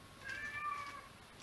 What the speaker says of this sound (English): My cat wants to go outside